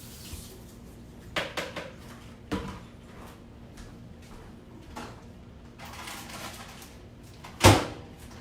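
Kitchen dishes clatter while a bowl is cleaned out, with scattered knocks and clinks, a few sharp bangs, and one loud crash near the end over a quiet background.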